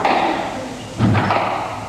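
A squash ball struck with a drop shot during the 1987 Pakistan Open final between Jahangir Khan and Jansher Khan: a single dull thud in the middle of a noisy court, with crowd murmur continuing around it.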